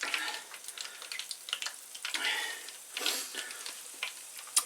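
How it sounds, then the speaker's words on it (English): Beer-battered mushrooms crackle and sizzle in hot frying oil, close and fairly quiet, with bursts of spitting bubbles rising and falling as more pieces drop in. "just dip them straight into the batter and drop them into the oil"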